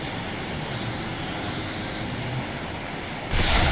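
Steady roar of crashing sea waves with wind in a video game trailer, continuous surf wash that swells louder near the end.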